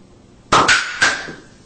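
An Alka-Seltzer and water film canister rocket pops off with a sudden loud bang, followed by a couple of clattering metallic impacts that fade quickly.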